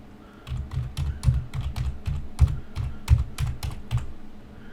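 Quick, uneven keystrokes on a computer keyboard, about a dozen close taps in bursts while entering a gateway address on a server, crisp and near with no talk.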